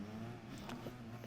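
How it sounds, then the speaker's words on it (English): A car engine revs steadily at a rolling start in a racing video game, a continuous droning hum with no talk over it. "just revving up our engine"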